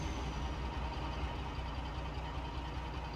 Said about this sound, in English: Get that big lump of an engine warmed up.